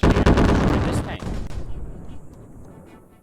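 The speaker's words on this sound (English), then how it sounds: "You can press the middle mouse button to launch the quote-unquote Gray Still Plays Missile of Pain and Sadness." A missile fired in the Brick Rigs video game, a heavy, loud blast-like launch at the start followed by a rumbling roar that slowly fades over a few seconds.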